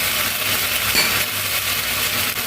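Garlic-tomato paste with coriander powder and Kashmiri red chili powder fries in hot oil for a rohu fish curry, a steady close sizzling hiss with one faint metallic clink, and no voices.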